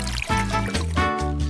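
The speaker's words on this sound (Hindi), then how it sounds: "अब इसमें गर्म पानी डालती हूँ" Hot water poured steadily into a glass in a kitchen, a continuous close liquid stream with rising gurgle and no speech.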